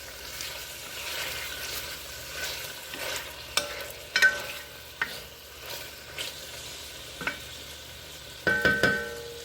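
Wooden spoons stir and scrape pieces of steak in an enamel pot over medium-low heat, a soft continuous sizzle broken by occasional sharp knocks and clatters of the spoons against the pot.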